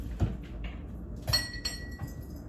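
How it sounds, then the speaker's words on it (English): A drinking glass is picked up and set down, giving a couple of close, bright clinks with faint knocks between them, no talk over it. "All right, so I just got a glass here"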